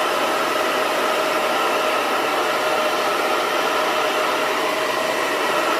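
A hair dryer blowing steadily and loudly while curly hair is cupped and dried, a constant whooshing roar with a faint motor whine that holds unchanged throughout.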